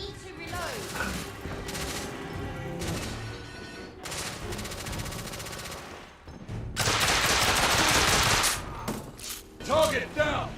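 Rapid gunfire in a firefight from the video game The Order, with bursts of automatic shots and loud crashes, a dense stretch of heavy fire in the middle, and game voices calling out over the shooting.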